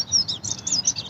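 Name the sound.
swan calling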